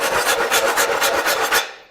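A strong 1.5-inch iron pipe rasps hard across a scratch-resistant tile surface in rapid, even back-and-forth strokes, loud and close, about eight scrapes before it stops.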